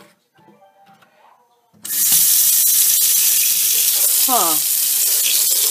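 Hot water running from a tap over blueberry-dyed fabric, a sudden strong steady gush after soft handling noises, with a brief murmur from a person.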